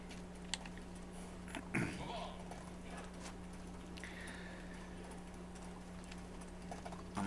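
A donkey's hoofbeats clip-clop in a video game, a faint steady patter of small taps under a constant low hum, with a couple of louder knocks.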